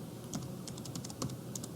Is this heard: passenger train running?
no